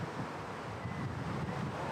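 Steady wind buffeting the microphone on an outdoor disc golf course during a women's tournament round, a constant low rumbling roar with no distinct gusts or breaks and no talk over it.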